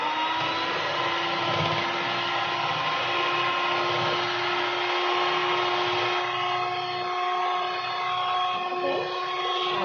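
An electric blender whirs steadily while blending yogurt, a continuous loud motor drone with a constant pitch and no pauses.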